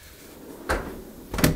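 A window sash door on a replacement apartment window is shut by its handle, producing two close knocks: a muffled thud, then a louder latching clunk just under a second later.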